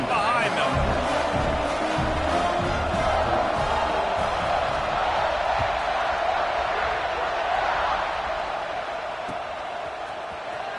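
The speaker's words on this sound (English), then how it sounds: "They're set to kick it off, and this crowd now ready to get behind them." Football stadium crowd roars steadily before a kickoff after a touchdown, a dense, loud wall of cheering that holds throughout, with a commentator's voice running over it.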